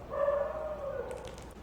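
A dog nearby gives a drawn-out whining yelp, a sustained tonal cry lasting over a second that trails off, with faint clatter near the end.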